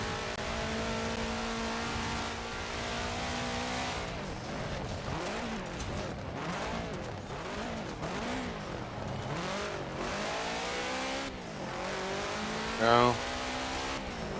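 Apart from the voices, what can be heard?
rally car engine revving and accelerating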